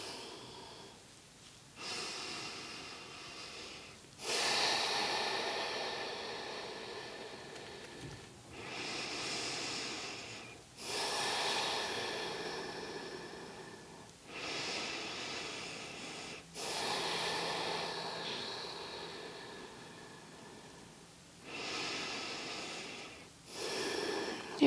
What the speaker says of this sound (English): And breathe here.